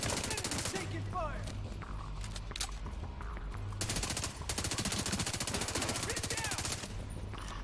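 Close automatic gunfire in The Division 2 video game, repeated loud rapid bursts in rhythmic strings with short gaps, over a constant low rumble, with brief voices faintly mixed in.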